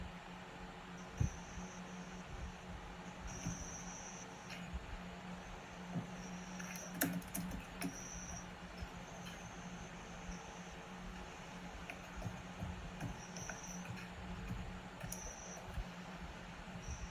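Faint, sparse keyboard typing and mouse clicks sit under a constant hiss of fan and room noise, with a few soft isolated taps spread across the stretch.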